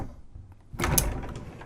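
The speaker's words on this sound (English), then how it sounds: "It is a solid pocket door, and it closes fully" A solid pocket door in a 2022 Thor Omni luxury diesel Super C RV bedroom slides shut, a quiet glide ending in a firm, close thud with a brief rattle.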